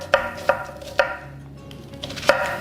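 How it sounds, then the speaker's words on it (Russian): A knife chops through onion on a cutting board, five crisp, close taps at irregular intervals, each a short sharp knock against the wood. "Лук нарезайте кому как нравится, полукольцами"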